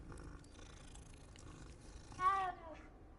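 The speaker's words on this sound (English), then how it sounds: "We got a bunch of kitties here." Cat purring in the video game Hogwarts Legacy, a soft low rumble under background sound, followed by a brief louder meow-like cry near the end.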